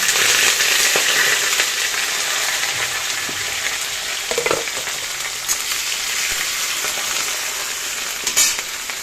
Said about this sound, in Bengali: আর কড়াইতে দিয়ে দিচ্ছি সর্ষে আর শুকনো লঙ্কা আর একটা তেজপাতা